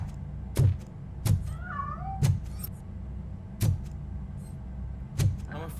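In the game Robocop: Rogue City, a cat meows several times, short and fairly close, with the calls set against regular heavy thudding footsteps and a faint hum.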